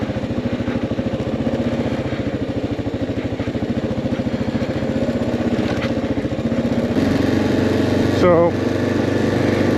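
A Kawasaki KLR 650 motorcycle on an adventure ride through Linville Gorge, North Carolina, its single-cylinder engine thumping in a steady, close, continuous rhythm while the rider talks briefly over it.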